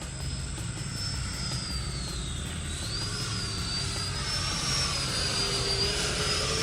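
E-flite F-16 80mm electric ducted fan RC jet on a 5000 pack making high-alpha passes, its steady whining fan roar sustained at moderate distance, pitch sliding slightly as it flies past, with no talk.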